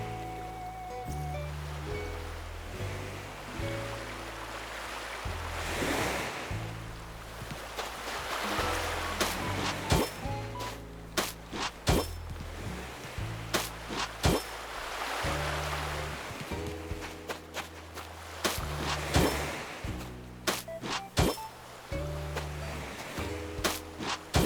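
Gentle island water sounds in Animal Crossing: New Horizons wash under soft game music, with sharp clicking taps scattered across the steady background.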